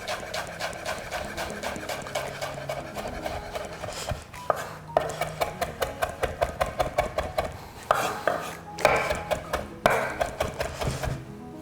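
A knife roughly chops fresh sage on a cutting board in quick, close, rhythmic bursts of sharp taps, pausing briefly now and then before resuming.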